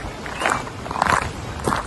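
Deliberately loud footsteps on a garden path at Osborne House: a few crunching steps, close and fairly loud, unevenly spaced over a short stretch, with no one speaking.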